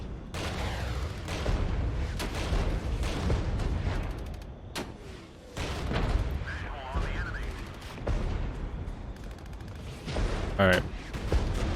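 Gunfire and artillery in the military strategy game Regiments with Belgian forces, dense, rapid and continuous shots mixed with heavier booms, loud and close throughout, with brief talk over it.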